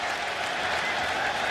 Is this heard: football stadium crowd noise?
yes